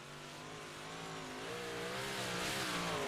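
Big block race car roaring through a qualifying lap at Weedsport, a steady loud engine drone whose pitch rises and wavers as the car gains speed and draws nearer.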